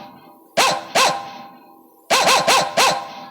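A dog barks loudly and close by during a staged folk theatre drama. Two barks are followed by a pause, then a quick run of four more.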